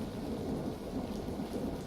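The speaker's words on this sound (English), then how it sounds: "That's why there's rain in the background." Steady, even wash of rain falling in the background with a low rumble, constant and unbroken throughout, with no voices.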